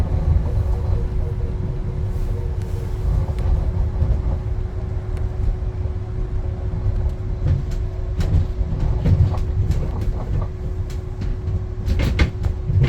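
Inside a Heathrow automated pod vehicle, a rare older model, the cabin rumbles steadily with a low hum as it rides into the station. Scattered clunks and rattles sound close by, with no talking.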